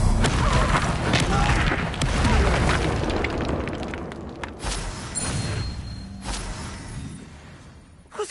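A fire spell bursts in a Harry Potter video game, a booming, crackling explosion that rolls on for several seconds and then fades, with a character's voice in the mix.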